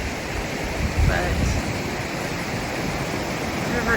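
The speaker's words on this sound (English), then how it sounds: "the river is still flowing" A low, shallow river flows steadily over rocks in summer, a continuous broadband wash of rushing water, close and fairly loud, with a faint bump of handling noise near the start.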